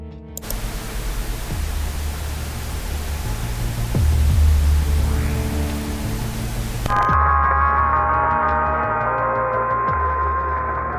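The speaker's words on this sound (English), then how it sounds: "The tracks consisted of pure static with accompanying art of a signal mixer summing 2 inputs." A pure static track from a mysterious album hisses as a dense, loud, continuous wash of noise, changing in texture partway through to a thinner, tonal buzz.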